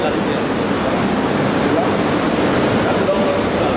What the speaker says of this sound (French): Ça tombe dans un puisard et quand le puisard là, le niveau monte, les pompes là aspirent automatiquement et renvoient l'eau vers la rivière